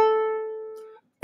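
A single guitar note on the A string from a song's riff rings clearly and decays over about a second, followed by a brief quiet gap and a sudden noise at the end.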